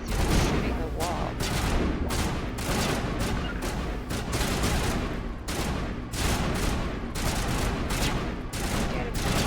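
Mass Effect gunfire rattles out in dense, sustained bursts, with rapid automatic shots broken by short pauses. The firing stays loud from start to finish.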